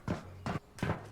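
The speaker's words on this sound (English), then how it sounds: "Heard footsteps again." Footsteps in the VR game Ghosts of Tabor, three distinct evenly spaced thumping steps, fairly close and moderately loud, with no talk.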